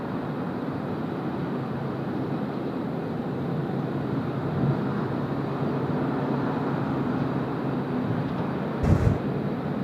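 Qantas flight 68, an airliner departing Sydney Airport from runway 16 right, gives a steady, distant jet roar that holds level throughout, with a brief thump near the end.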